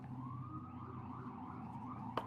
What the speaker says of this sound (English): Apologies if you can hear that siren right on a main road.